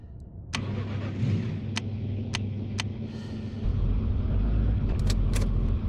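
A car engine in the zombie survival game Zed Zone turns over and runs, a steady loud low rumble that swells heavier partway through, with a few sharp clicks and knocks on top.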